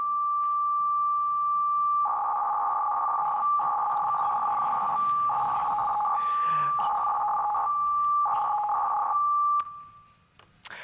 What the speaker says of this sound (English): All right, so it sounds a bit like a modem. In fact, it's an FSK modulation.